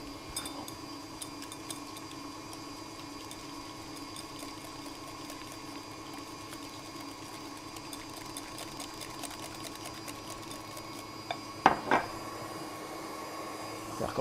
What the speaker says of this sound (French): Pour cela, je vais utiliser un fouet.